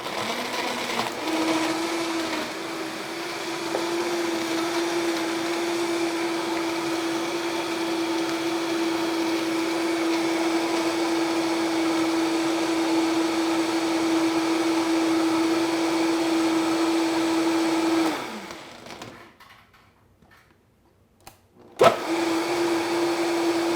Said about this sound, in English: We're gonna put this on the blender